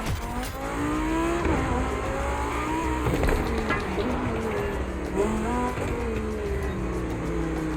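Red Bull RB18 Formula 1 race car in The Crew Motorfest, its high-revving engine rising and falling through gear changes with tire squeal, loud and continuous throughout.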